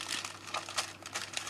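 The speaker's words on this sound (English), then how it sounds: "I take a piece of wax paper, I'll put it over the cardstock" A sheet of wax paper crinkles and rustles as it is laid over cardstock, a close, soft run of papery crackles with brief louder flicks.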